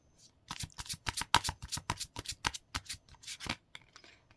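A tarot card deck being shuffled by hand in a run of quick, crisp riffling bursts that speed up and then taper off, close and clear with no talking.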